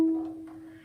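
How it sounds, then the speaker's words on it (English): A single violin note, E on the D string, rings out alone for under a second as a clear, steady bowed tone that fades quickly. "On the D string, your first note will be the E."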